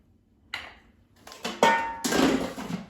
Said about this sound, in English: let me take it out of the air fryer